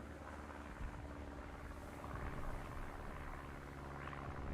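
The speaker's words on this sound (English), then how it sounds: "I can hear a flipping plane, but I can't see the damn thing" A propeller warplane droning nearby in War Thunder, a low, steady engine hum swelling slightly louder over a few seconds amid background battle rumble.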